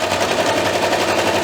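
A sewing machine stitches along the bottom edge of a fabric robe, a fast steady close mechanical chatter running continuously, with no talking.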